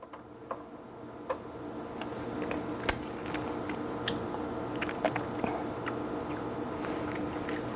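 Someone chews a bite of keto yellow birthday cake with chocolate frosting, soft close-up mouth sounds with scattered small clicks and crunches over a quiet background hum.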